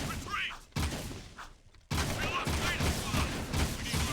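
Bursts of gunfire in the video game Jak II, loud volleys broken by a brief gap before a sustained barrage resumes, with a player's voice talking over it.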